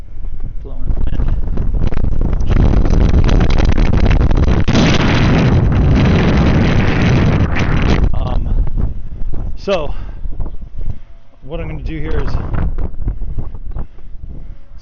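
Wind gusting hard across the microphone outdoors on a roof during a shingle repair assessment, a loud roaring buffet for several seconds that eases off, after which someone speaks over lighter wind.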